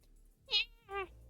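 A cat meows twice in quick succession, close and fairly clear, the second call lower and shorter than the first, against a quiet room.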